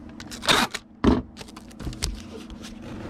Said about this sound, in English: We'll tape them down so they can't move.